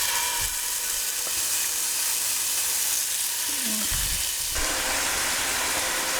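Leftover cooked Christmas turkey fries in hot oil in a pan, giving a loud, steady, close sizzle and hiss with brief shifts in intensity and no talking.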